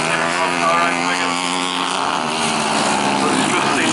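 Junior speedway motorcycle racing past at Rosebank Speedway, a loud, sustained high engine whine whose pitch shifts as the bike comes through, with a commentator talking over it.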